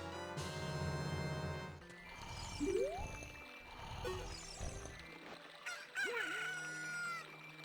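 A rooster crows in the Ocarina of Time video game, a long, loud, clear cock-a-doodle-doo followed by softer clucking, chiming game sounds and a brief jingle, with no talking.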